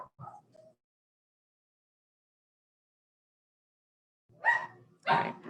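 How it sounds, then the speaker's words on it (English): Dogs bark upstairs in a house, a couple of short yaps at the start, then silence, then two louder, sharper barks close together near the end, muffled through the ceiling. "Dogs are having a party upstairs all of a sudden."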